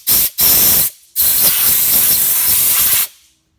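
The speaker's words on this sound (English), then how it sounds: "we're just going to give this plug a bit of a blowout" Compressed air blasts out a plug on a Toyota Hilux engine during a timing belt job: two short, loud, close hissing bursts, then one sustained blast of about two seconds that cuts off into silence.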